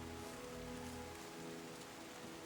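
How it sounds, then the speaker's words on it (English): Steady rain falls in the video game Terra Nil, a soft, even wash of droplet noise that holds at a low level throughout with no voices. "it is raining, so, you know, we might get some bonuses on that one"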